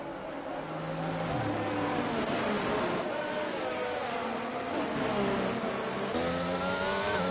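Racing game cars pack together behind a safety car around Monza or COTA, with engines droning steadily and up-shifts rising and falling as the field runs at moderate pace, a continuous mid-pitched whine with no voices.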